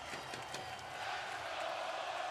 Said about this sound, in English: The Let's Go Oiler chants still breaking out. This crowd is unbelievable.